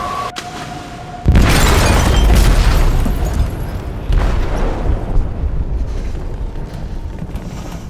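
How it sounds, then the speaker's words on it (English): An explosion tears through a ship's hold in Detroit: Become Human, a sudden loud blast followed by a long roaring rumble, with a second heavy surge a few seconds later. "They detonated an explosive in the hold."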